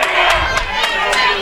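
Wrestling crowd at a Shockwave event cheering and shouting in a steady, loud wash of noise, with a few sharper bursts rising above the din and an announcer's voice running underneath.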